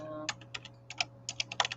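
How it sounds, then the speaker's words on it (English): Typing on a computer keyboard, a quick run of close, crisp key clicks in uneven bursts over a low steady hum. "I feel like I'm typing slow today."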